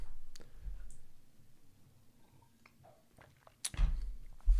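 Mouse clicks on a computer, a few sharp close clicks spaced apart over quiet room noise, with a louder cluster of clicks and handling near the end.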